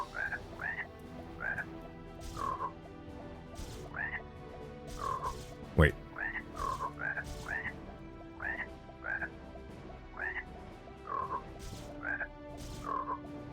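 Frogs croak in the frog room of the spell roguelite video game Mage, with about a dozen short, evenly spaced croaks over a low game drone and one sharp thump midway.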